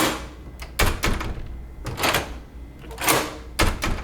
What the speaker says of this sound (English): the only way to lock the door is to actually turn it and close it